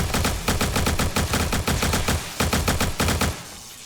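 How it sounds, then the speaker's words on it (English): Modded AK-47 fire from 7 Days to Die rings out in rapid, loud automatic bursts, several strings of shots separated by brief pauses, then stops near the end. "There's an AK-47."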